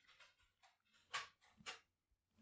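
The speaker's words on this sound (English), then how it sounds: "This dog's not helping me, just tip-tapping around." A dog's claws tip-tap faintly across a hard floor in a quiet room, making a handful of light, irregular clicks with two sharper taps standing out.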